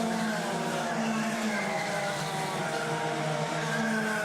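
Racing karts from a Club100 Premier Sprint Championship final at Rye House sweep through a corner together, a continuous loud buzzing engine drone with shifting pitch, steady and close with no pauses.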